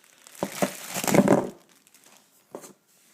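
Plastic accessories bag for an Apex LE1912 19-inch TV being torn open with tape ripped off, giving a few sharp crinkles and then a louder burst of crumpling that fades into brief rustles.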